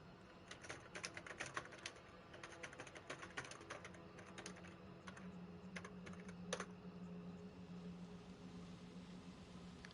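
Quick, uneven keystrokes on a computer keyboard, typed in bursts at close range against a quiet background hum.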